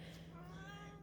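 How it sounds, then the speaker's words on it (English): A pet cat gives a short, faint meow, drawn-out and slightly wavering, in an otherwise quiet indoor room. "since my cat has decided to voice her opinion on things"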